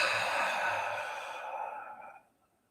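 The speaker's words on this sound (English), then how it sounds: "Three nice deep breaths" A single long, deep exhale released slowly, close and soft, tapering off into silence after about two seconds.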